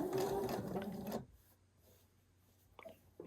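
A sewing machine runs a quilt seam in a fast, steady whir that stops abruptly after about a second, leaving a quiet room with a few faint handling clicks.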